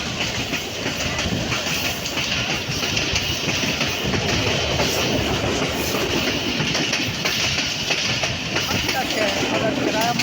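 GMCU-15 locomotive 4906 hauling a PDK shuttle train across the Victoria Bridge over the Haranpur River, a loud continuous rolling rumble with rhythmic clickety-clack of wheels on the rails, with voices faintly mixed in.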